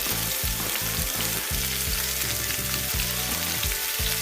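Onions, garlic and pimentoes sizzle loudly in a hot pan as they fry, with a constant close crackle and rhythmic stirring scrapes.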